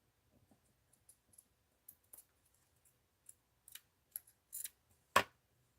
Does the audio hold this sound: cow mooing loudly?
no